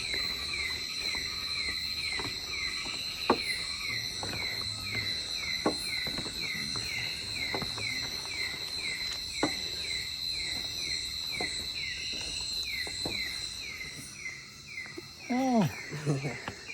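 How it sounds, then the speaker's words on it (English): Crickets and frogs call at night in the Borneo rainforest at Sepilok, a steady high insect trill running throughout with scattered croaks and clicks, while people speak quietly now and then. "Is that frogs? Yes, frogs, cricket."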